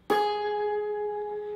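A single plucked guitar note at the 9th fret from a guitar lesson rings out clean and close, sustaining steadily for over a second with no voice over it.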